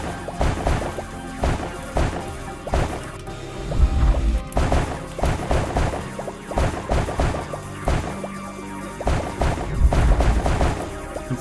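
Repeated loud blasts from a new shotgun-like weapon in a mech combat video game, firing in irregular bursts with crashing impacts over game music and mechanical noise.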